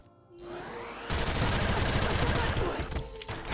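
Chi shot gunfire attack in Xenosaga Episode 3, a dense, loud burst of rapid-fire shots that starts abruptly after a short wind-up and runs for over two seconds before tapering.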